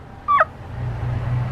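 A pet backyard chicken lets out a single short, sharp cluck close by, standing alone against a low, steady background hum.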